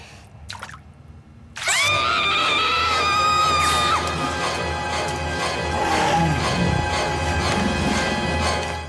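A cartoon princess screams in the sewers, a sudden sustained high-pitched shriek that wavers and holds for several seconds, loud and close, over dripping, echoing sewer ambience.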